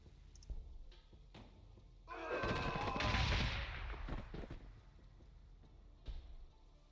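Units firing guns in the Warhammer 40,000: Gladius strategy game, a loud rattling volley of gunfire swelling for about two seconds before tapering, with scattered shots and clicks around it.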